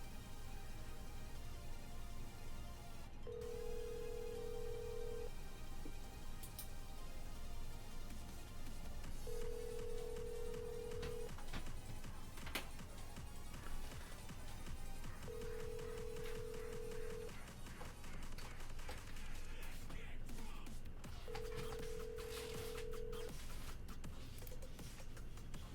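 A phone call placed by Siri to Jake rings out four times, each long ringback tone spaced evenly about six seconds apart over a steady, dense background.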